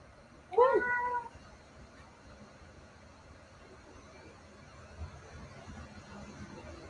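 A pet cat gives one clear, close meow lasting under a second, then the room falls to quiet background hum with faint distant noise.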